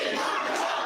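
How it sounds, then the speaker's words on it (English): A packed crowd at a public forum in the South Shore International College Prep High School shouts in opposition to housing migrants; a dense, loud roar of many voices fills the brief moment. "The crowd voicing their opinion, strongly opposing the addition of migrants in their community."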